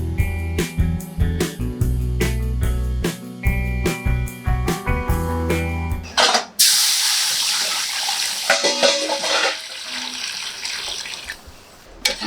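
Water pours steadily into a pan for cooking rava into kesari, a loud, continuous rushing splash that follows a stretch of background music.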